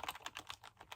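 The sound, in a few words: typing on a computer keyboard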